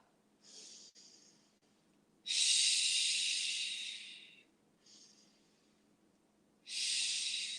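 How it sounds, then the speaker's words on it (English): Deep breathing during a yoga session: slow, airy inhales and long exhales in a steady rhythm, close and clear, with quiet pauses between breaths and no talking. "Big breaths here."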